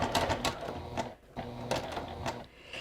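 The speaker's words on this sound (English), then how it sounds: "So I'm just going to stitch right up to it." A sewing machine stitching along the border of a self-binding baby blanket, quick mechanical rattling bursts that stop and start in short runs, close and fairly quiet, with no talking.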